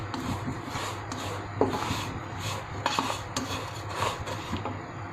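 Vermicelli (sevaiyan) being stirred in hot ghee in a pan, with steady scraping and rubbing of a utensil against the metal and a few sharper clinks, close and continuous, with no talking.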